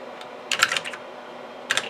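Keys clatter on the Compaq Portable I keyboard in two short bursts, a quick cluster of clicks followed by a pause and then a couple more near taps.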